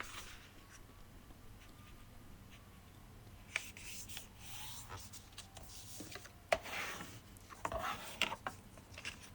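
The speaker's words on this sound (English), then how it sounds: "I fold these pages all together, roughly, and creased each sheet" Sheets of 24-pound copy paper folded together and creased by hand, soft continuous rustling with scattered sharper crinkles and presses near the end, close and fairly quiet.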